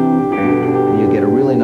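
Guitar chord fretted with light finger pressure, strings just touching the frets; a steady sustained chord rings loud and close with rich overtones throughout, no talking over it.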